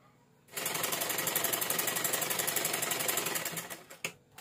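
Sewing machine stitching stretchy spandex knit fabric, a steady fast mechanical chatter starting abruptly and running about three seconds before slowing to a stop with a couple of final knocks.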